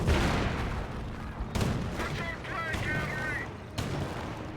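Gunfire and explosions from the WWII strategy game Company of Heroes 1 as Panther and Pershing tanks fight, with repeated sharp cracks and booming impacts at close range over a dense battle rumble, alongside a commentator's voice.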